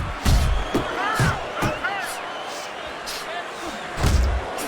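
Boxing punches landing in Fight Night Champion, a handful of heavy thudding impacts spread across the moment, heard under a commentator's voice and a crowd murmur.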